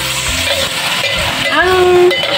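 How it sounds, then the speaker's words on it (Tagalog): Tofu fries and toasts in a hot pan, a steady close sizzle with scraping stirring sounds. A short whistling squeak rises near the end, and no one speaks. "Medyo tutustahin ko lang ng kaunti guys, tapos ahonin ko na."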